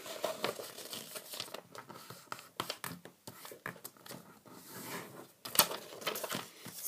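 Sheet of origami paper being folded and creased by hand, with dense crinkling, rustling and short sharp crease snaps in irregular bursts, close and fairly quiet, no talking.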